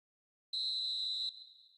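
A single sharp, high referee's whistle blast in the football video game eFootball 2025 sounds clearly for under a second, then fades away in a thin trailing tone.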